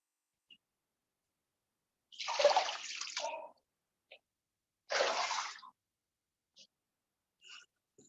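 Clean water is poured while washing the legs, two separate splashing pours of about a second each with faint drips between them, in an otherwise quiet room.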